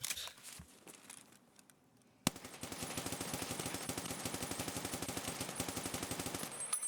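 Rapid automatic gunfire in a video game, a sustained fast burst lasting several seconds after a quieter stretch, loud and steady with dense repeated shots.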